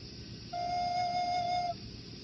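A single sustained low F note on a recorder, pure and steady, held for about a second over faint background hiss.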